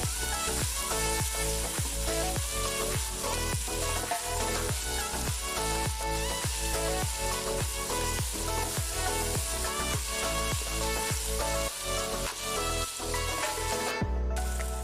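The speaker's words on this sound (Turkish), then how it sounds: "Biraz patatesiyle de kavuruyorum." Chopped onions and potatoes sizzle steadily in a hot pan, a constant frying hiss with a regular rhythmic scraping or stirring beat throughout, loud and close.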